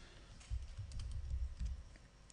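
Soft keystrokes on a computer keyboard as a name is typed into a Photoshop text tool, a short quiet burst of taps with no talking.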